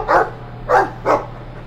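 A dog barks three times in Dragon Age 2, short evenly spaced woofs that stand out loud and close against a quiet steady game hum.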